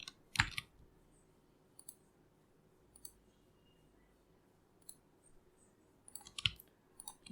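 A computer mouse clicks sharply a handful of times at irregular intervals, a pair close together near the start and more scattered through quiet gaps, heard up close with no talking.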